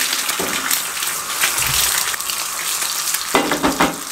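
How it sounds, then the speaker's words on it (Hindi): An egg fries in hot oil in a pan as oil is spooned over it, a steady, loud crackling sizzle with bursts of spitting throughout. "1 अंडा लेंगे, इस तरीके से फ्राई करेंगे, कोई मसला नहीं है।"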